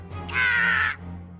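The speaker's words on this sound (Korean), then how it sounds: "까마귀!" A crow's caw from the Cookie Run: Kingdom video game sounds once, a single harsh raspy call lasting about half a second, loud and near over a low steady hum.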